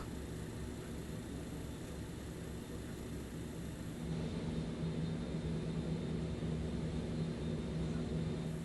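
BAe 146-200 jet engines spooling to take-off power in a flight simulator, a steady broadband roar that swells and thickens halfway through, with a low engine hum underneath and no voices.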